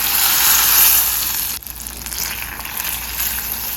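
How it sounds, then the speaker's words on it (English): Eight tablespoons of butter with a cup of sugar in a saucepan over medium-high heat, a steady close bubbling sizzle that dips briefly once before settling back into a constant fizz. "In a saucepan over a medium high heat, I'm gonna add 8 tablespoons of butter. I'm gonna add 1 cup of sugar."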